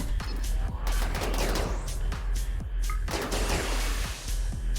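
Turret gunfire in the RimWorld video game: dense, continuous bursts of rapid shots and bangs rattling without pause, loud and close, no talking.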